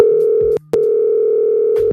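A loud telephone dial tone sounds in a continuous steady pitch that breaks once briefly and then resumes, with faint clicks at the start and end.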